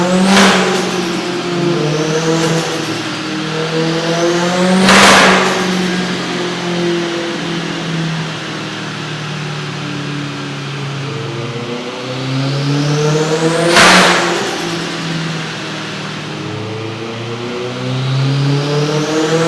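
A turbocharged car engine stutters from ignition cut at the same rpm, revving up and down repeatedly, with sharp, loud bursts breaking through the droning engine note.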